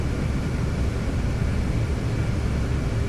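Steady low roar of an aircraft engine in the X-Plane 12 flight simulator, a Zibo 737 or C-130 Hercules being throttled back on approach, droning continuously and evenly with no talk.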